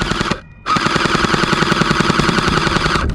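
An UnlocX gel blaster pistol fires gel balls in rapid automatic bursts, giving a close, loud rattling buzz of about 11 shots per second with a brief pause after the first short burst and no talking.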